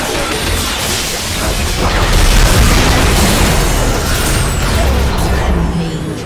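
A large explosion in a video game as an inhibitor is destroyed, a loud sustained roaring boom with crashing debris that swells and lingers for several seconds and drowns out everything else.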